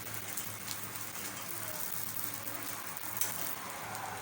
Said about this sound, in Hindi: तो अब मैं इसमें घी डाल दूँगी और इसको जो है ऐसे पका लूँगी